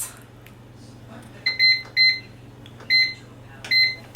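A pressure cooker being set for a 30-minute cook gives four short electronic beeps, each a bright double tone, spaced irregularly over a few seconds against a quiet kitchen background.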